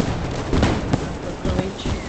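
Firecrackers go off in several sharp, loud bangs at irregular intervals, with a low murmur of voices behind them.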